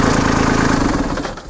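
A Kubota B2650 compact tractor's engine runs at a steady, loud idle with the PTO engaged and the emergency brake on, a close, throbbing diesel rumble that starts to drop away near the end.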